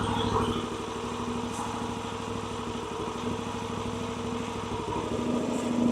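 An old log splitter's small engine runs steadily nearby with a continuous, even putter and a slight rise in level at the end, and no talk over it.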